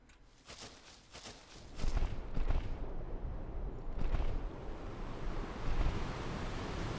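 Ocean waves in the video game Ark, a steady wash of surf that swells louder after the first couple of seconds and stays broad and continuous, with a few sharp thumps early on and no talking.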